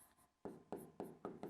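Pen scratching on paper during a physics lesson, a few quiet strokes and then a steady series of five firmer, evenly spaced scribbles, close by and faint, with no talking.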